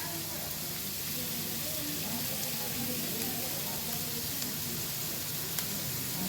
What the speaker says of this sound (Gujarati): ડુંગળી છે એ થોડીક થઈ જાય સોતરાઈ જાય